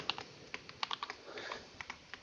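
Rapid clicky keystrokes on a computer keyboard, irregular taps clustered in short bursts with brief pauses, close and fairly quiet, no talking.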